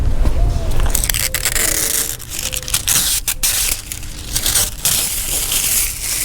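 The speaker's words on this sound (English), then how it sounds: "Take the tint off as well." Window tint peels and crackles off a car's quarter glass, a rough crinkling, tearing sound in uneven bursts with short pauses, close by.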